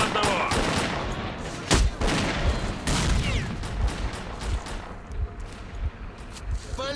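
Dense gunfire from a firefight in S.T.A.L.K.E.R.: Clear Sky's swamps: rapid overlapping automatic bursts and single shots crackle continuously, close and loud, with sharper reports near two and three seconds.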